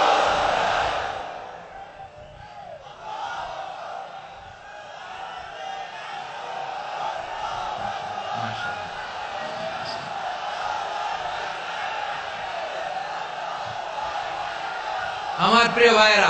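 A large crowd at a religious gathering answers a takbir call, chanting together in a sustained, loud, echoing roar that swells and fades, with a louder shout near the end.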